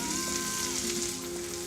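Spring onions, shallots and garlic sizzle in fish-cooking butter in a pan on low heat, a steady soft frying hiss with fine crackle throughout, close and alone with no talking.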